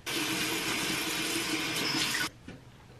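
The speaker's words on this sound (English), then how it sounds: "I think I should wash my face before I do this" A bathroom sink tap runs steadily while a face is washed, a close, hissing gush lasting about two seconds before shutting off abruptly, followed by a faint splash.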